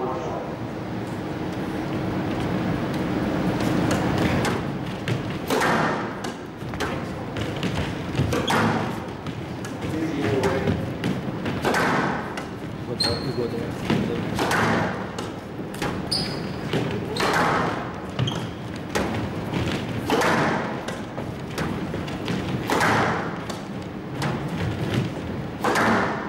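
Squash balls struck against the wall during a forehand drive drill: a steady run of sharp thuds and smacks at an irregular, brisk rhythm, echoing in the court, with a coach's voice talking over them.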